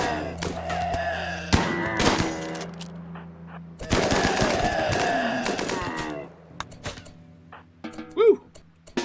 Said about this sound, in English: That was some hot shooting, right?